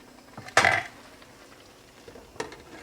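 A metal lid clanks down onto a cooking pot of creamy mushroom chicken with one bright, ringing clatter, followed a couple of seconds later by a softer tap, close by with no talking.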